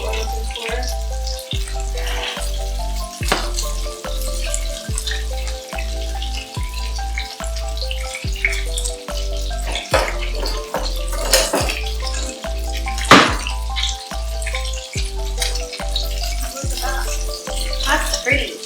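Ground pork frying in a pan for a Mediterranean flatbread gives a continuous close sizzle, with a steady rhythmic music beat running underneath throughout.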